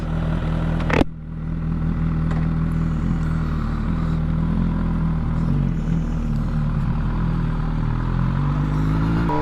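A 2022 MV Agusta Brutale 1000RS, a 208 hp naked motorcycle, being ridden on the road: a steady engine drone with a rushing wind roar throughout, and a brief sharp knock near the start.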